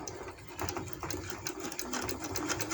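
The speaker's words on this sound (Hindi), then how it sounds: "मैं पाइपिंग पे सिलाई लगा देती हूँ" Sewing machine stitching lace onto piping along a kameez hem, using a double presser foot, running in a steady continuous whir with rapid needle rhythm, close and moderately loud, no talk.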